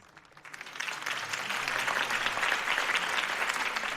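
A crowd in the Batman Telltale video game applauds after a campaign speech, a steady wash of many clapping hands that swells within the first half second and holds, heard from a moderate distance.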